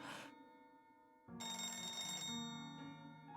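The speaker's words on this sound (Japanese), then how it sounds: "電話だな" A telephone in the visual novel Maitetsu rings in electronic bursts, a short tone then a louder, longer ring that trails off, clear and close with no talk over it.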